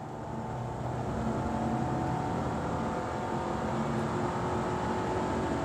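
A Hyundai Sonata accelerating hard, its engine note rising in a steady, loud drone with strong road and wind noise heard from inside the cabin.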